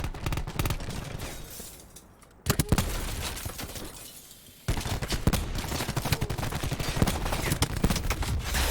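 Gunshots in the video game Black Ops 4 come as sharp, clustered cracks and bursts, loud and close. A brief lull separates the early shots from a dense run of fire near the end.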